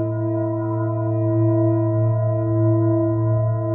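A large singing bowl weighing 2.27 kilos, tuned to about 111 hertz on the note A, rings with a steady, sustained hum, gently pulsing in volume, alone and fairly loud.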